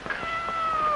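A cat gives one drawn-out, fairly clear meow that holds a steady pitch for about a second, close by in a quiet room.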